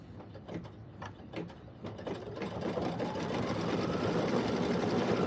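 A sewing machine stitches the tongue of a leather eyelet fob, its motor whirring up from a few short bursts into a steady, continuous run that builds in loudness and holds close by.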